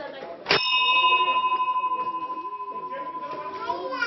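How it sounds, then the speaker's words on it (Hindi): A temple bell in Susner, Madhya Pradesh, is struck once in the morning. It gives a sharp metallic clang, then a long ringing tone that slowly pulses and fades, loud and close, with faint children's voices in the background. "मंदिर की घंटी बज चुकी है"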